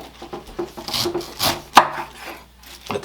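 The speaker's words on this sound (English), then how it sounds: "So I'm going to cut a pineapple up here." A knife cuts the top off a pineapple in a kitchen, giving a few short, close crunching and scraping strokes through the tough fibrous crown, with a sharper crunch near the middle and quieter rubbing between strokes.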